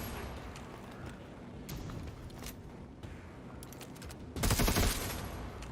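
Gunfire in the video game Necromunda Underhive Wars: scattered shots, then a loud rapid burst of automatic fire near the end.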